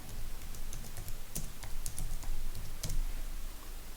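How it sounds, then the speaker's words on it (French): Someone types placeholder Lorem Ipsum text into a browser on a computer keyboard. The keys give close, quick, slightly irregular clicks, several in rapid succession over a low steady hum, with no voices. "je vais taper Lorem Ipsum"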